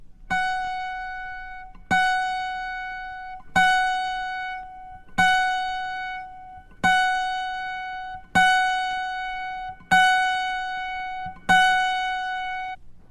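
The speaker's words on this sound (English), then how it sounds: "Finally, move to the F sharp in the higher octave, the 30th string. It should sound like this." The higher-octave F sharp on the 30th string of an autoharp is plucked eight times in a steady rhythm, each thin, bright note ringing and fading alone.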